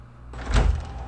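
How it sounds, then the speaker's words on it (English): A door is tried but stays shut, giving a single dull thud and rattle of the handle and frame, close and brief. "The door's not opening."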